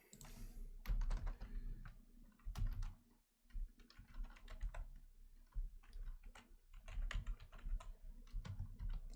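Rapid bursts of computer keyboard typing, close and distinct, with irregular clusters of keystrokes separated by brief pauses while someone jots down notes.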